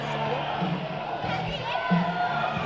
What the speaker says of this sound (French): Et c'est une foule très contente.